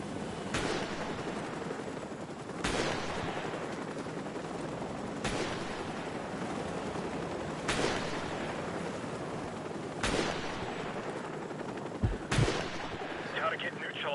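Gunfire from Call of Duty: Modern Warfare Remastered, with six loud, sharp shots spaced roughly two seconds apart and a final closer pair near the end, over a steady rumbling battle ambience.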